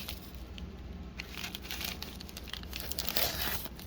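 Scissors crunch and crinkle through a shipping package, close-up, with irregular tearing and crinkling of the packing material continuing steadily throughout.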